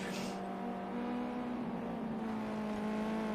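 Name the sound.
racing cars driving in qualifying, from a racing video game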